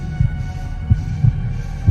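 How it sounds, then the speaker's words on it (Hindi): A heartbeat sound effect in a Hindi audio story, with deep, booming low thumps pulsing at an uneven pace over a steady hum. "रोहित के दिल की धड़कनें ये सब सोचते सोचते इतनी तेज चलने लगी कि उसे अपनी धड़कनें आसानी से सुनाई दे रही थी।"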